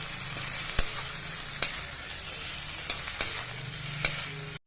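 A ladle stirs elephant foot yam roasting in a pan, giving a steady soft sizzle with several sharp scraping knocks spaced irregularly, close and fairly quiet, with no talk.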